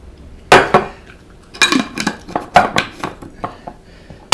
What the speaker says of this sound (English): with your dry spoon, put 1 or 2 teaspoons of coffee in the cup